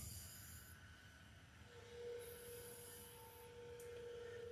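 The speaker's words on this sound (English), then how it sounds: "I can hear the locomotive over on the other side going." Distant locomotive rumbling along a third-rail line across the tracks, a low steady drone with a sustained mid tone entering partway through and faint high squeals on top, no talk.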